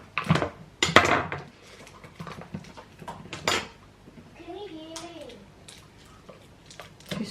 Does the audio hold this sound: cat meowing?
no